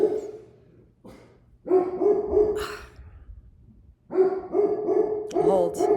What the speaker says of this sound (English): I can't talk with the barking